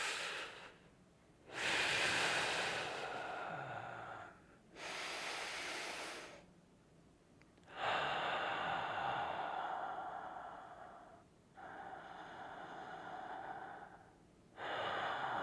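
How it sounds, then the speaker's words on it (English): A long, slow breath drawn in during a breathing exercise, repeated in several broad hissing waves, each lasting a few seconds with short pauses between, close and alone with no talk. "So this is a long inhale, I guess."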